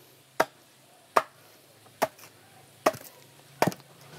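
Five sharp, evenly spaced chops of a machete (parang) biting into wood, close and loud against a quiet background, roughly one blow every 0.8 seconds.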